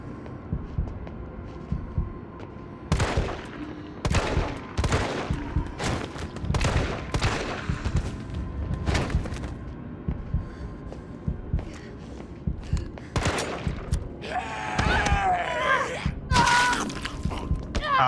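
Gunfire in Resident Evil 3 Remake: a run of sharp broadband shots, several evenly spaced bursts over a steady low game hum, followed by a cluster of clattering effects near the end, with no talk.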